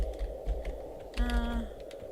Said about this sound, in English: I have my hand on my keyboard and I keep clicking the wrong letter